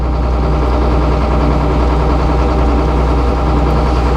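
A sawmill engine runs at idle, a steady, loud low drone with constant vibration and no break across the whole stretch, with no talking over it.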